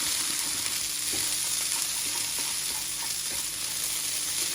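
Potato and chickpea burgers fry dry in a pan with a steady, close sizzle and occasional scraping as they are stirred and moved about.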